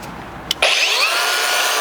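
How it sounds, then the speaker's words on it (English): Angle grinder cutting through a plastic rear bumper on a 4th-gen truck during a rear strike bumper install; a brief knock and pause, then a steady high, whining cut that runs loud and close to the end. "flip my grinder around and continue the cut along toward the passenger side"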